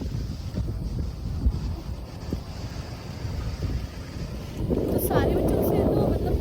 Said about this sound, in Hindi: बहुत ज़्यादा हवा चल रही है